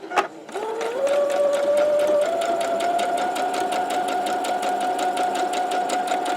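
A sewing machine runs in a fast, steady rapid-fire stitch while chain piecing a quilt block. It revs up after a brief click and continues evenly, close and fairly loud.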